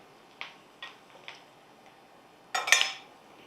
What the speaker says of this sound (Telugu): మళ్ళీ స్టవ్ వెలిగించండి.